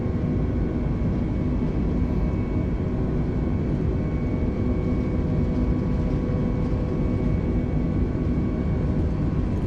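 Simulated Airbus A320neo (FlyByWire A32NX) jet engines at takeoff thrust in Microsoft Flight Simulator, a steady dense roar with a high whine layered on top, loud and unchanging throughout with no talking.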